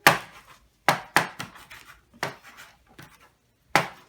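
Knife chopping fresh cilantro (coriander) leaves on a board, six sharp separate strokes at an uneven rhythm, each a crisp close thud with a short scraping tail, silence between and no talking.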